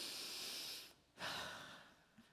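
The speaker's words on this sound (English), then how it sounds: "Take a breath with me." One deep, audible breath taken close to the mic, a long airy inhale, a short pause, then a full exhale with a slight rush of air, no talking.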